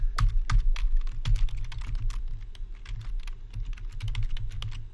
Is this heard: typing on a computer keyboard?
yes